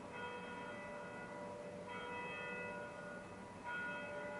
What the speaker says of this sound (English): But where is this bell coming from?